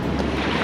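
Surf washing onto a rocky shore at Porth Trecastell (Cable Bay), a dense continuous roar of breaking water close by, mixed with wind buffeting the microphone, with no talk.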